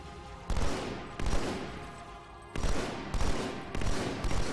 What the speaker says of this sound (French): je suis tellement déçu du fusil à pompe